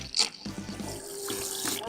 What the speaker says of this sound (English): let's go ahead and take a look at how the flush function of the toilet works.